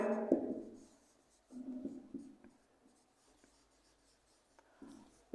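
Chalk or marker scratches across a board during a maths lecture on eigenvalues, a few short bursts of rubbing strokes separated by silence, ending with a sharp tap.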